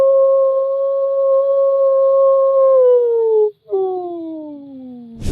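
A person imitates a wolf with a long, steady howl that sags in pitch, breaks off briefly and then returns as a second falling howl, loud and close.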